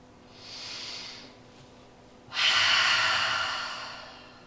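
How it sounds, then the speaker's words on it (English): Two slow, deep breaths during a lying-down yoga rest, a softer inhale followed by a louder, longer airy exhale, close and alone with no talking. "Take a couple of deep breaths here."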